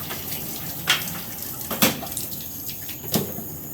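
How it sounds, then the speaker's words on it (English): A mop head is rinsed in a water bucket, with steady sloshing water and a few sharper splashes and swishes at irregular moments, close and fairly loud. "So we're just going to rinse the head out real quick, the head of the mop."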